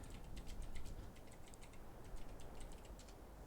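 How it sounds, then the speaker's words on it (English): Fingers type a chat message on a computer keyboard, a quiet, continuous run of quick clicking keystrokes in uneven bursts with no talking. "I better type the whole thing"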